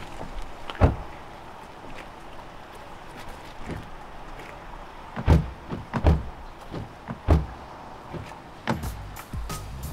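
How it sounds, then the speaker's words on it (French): A door is shut, giving a few sharp knocks and thuds scattered over a quiet background, with one early bang and a cluster of clunks and rattles later, close by. "Bien fermé ma porte."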